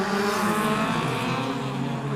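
Ford Laser and Mazda 1500cc race cars roar away together from a standing start, a dense, loud engine drone holding steady throughout with no voices over it.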